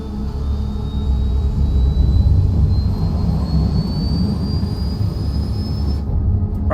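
A jet airplane engine roars loud and steady as the aircraft accelerates and climbs, with a thin rising whine above the heavy rumble before cutting off abruptly near the end.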